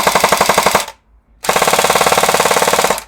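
An airsoft gun fires full auto in two long, rapid, loud bursts with a brief silent gap between them, the mechanical rattle steady and close with no voices.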